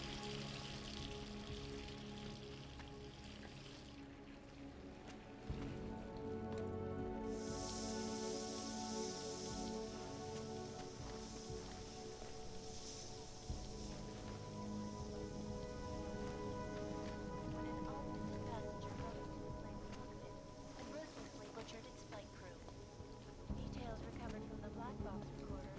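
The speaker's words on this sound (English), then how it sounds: "We'll turn the water on, help them clean it out a little bit." Water runs from a tap in an apartment in Deus Ex: Mankind Divided, a steady rushing stream over broadband game ambience, continuous and fairly loud for the whole stretch, with a brighter hiss partway through.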